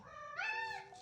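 A domestic cat gives a single short meow, close and fairly quiet, rising then falling over under a second against a quiet room background.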